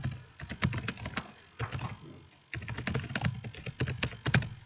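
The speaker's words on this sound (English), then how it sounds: "I'm just typing" Rapid typing on a computer keyboard in LibreOffice, dense bursts of clicking keys broken by two short pauses, close and fairly loud, with no voice.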